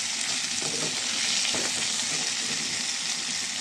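Katla fish oil fries in a pan with eggplant, green chili and onion, giving a steady close hiss and sizzle with faint stirring clinks and no talking.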